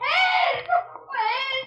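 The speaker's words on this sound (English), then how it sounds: "Maria ran into the hall screaming." A woman screams in a radio drama, two long, high, wailing cries with a short break between them, loud and close with no other sound.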